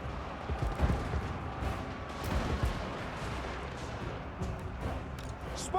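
Handgunner volleys in the Total War: Warhammer 2 battle: a dense, rumbling crackle of gunfire and distant booms. It runs continuously at moderate loudness with scattered sharper reports and no clear talk.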